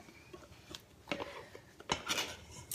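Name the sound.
scraping peanut butter mixture out of a mixing bowl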